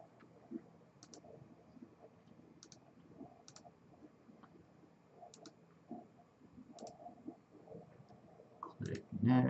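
Computer mouse clicking, several crisp isolated clicks spaced a second or more apart, faint and close, under quiet speech in a software installation session.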